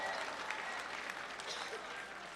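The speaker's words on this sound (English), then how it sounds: "let's give both Leslie and Brittany another big round of applause" Sustained applause from a union rally crowd in a state Capitol, a dense, steady patter of many hands clapping for the whole stretch, with faint voices mixed in.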